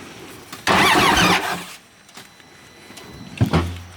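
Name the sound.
off-road vehicle engine starting up, sounding odd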